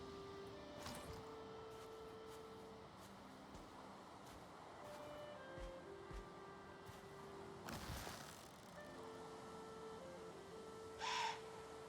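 An owl hoots in the video game Valheim, faint calls set in a dim outdoor ambience with a louder burst near the end and no talking.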